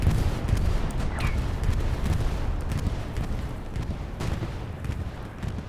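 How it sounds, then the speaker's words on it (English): Bombing run explosions in the Hell Let Loose video game at Kharkov, a dense, continuous rumble of heavy blasts and booming impacts that stays loud throughout with no clear gaps. "Well, that was a bombing run"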